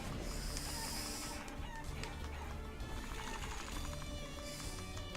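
Chickens cluck in the video game Guacamelee! Super Turbo Championship Edition, quiet fowl calls set against steady game music and background effects.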